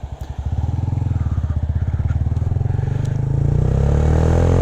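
A Honda Grom motorcycle being ridden, its small engine putting out a steady, close, pulsing putter that rises slightly as it accelerates, with no talking.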